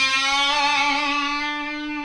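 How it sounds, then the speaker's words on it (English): Electric guitar string bend on the G string at the 5th fret, slightly out of key, with vibrato on a song part; a single sustained, distorted note wavers steadily for about two seconds with nothing else playing. "bend at the 5th fret of the G string and kind of bend up a little bit out of key and do a little"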